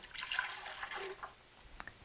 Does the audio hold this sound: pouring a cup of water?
yes